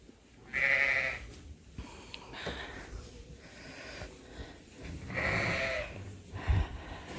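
Dorset and Dorset cross sheep with their lambs bleating in a farm pen, two loud close bleats about four seconds apart over soft snorting and shuffling, with faint background voices.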